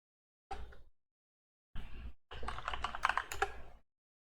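Bursts of rapid clacking keystrokes on a computer keyboard come in three separate runs with short pauses between them, close and fairly quiet, with no talking.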